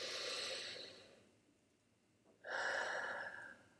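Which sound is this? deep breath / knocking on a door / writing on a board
deep breath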